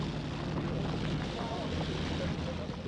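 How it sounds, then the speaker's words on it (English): Several WW1 propeller aircraft engines with wooden props rumble and rev in a steady, dense drone, close and loud, with wind buffeting the microphone throughout. "The wooden props spit into the air and the engines began to rev up."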